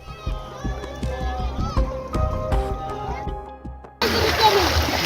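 Neighbourhood children playing in Ganges flood water in Bihar, with excited young voices and busy overlapping activity, then a sudden loud, sustained splashing, wash of water in the final second, close and dense.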